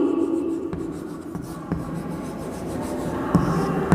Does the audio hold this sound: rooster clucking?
no